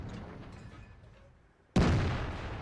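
A T57 Heavy tank gun fires one loud, sharp blast in World of Tanks, following quieter battle rumble, with a long booming decay trailing off after the shot.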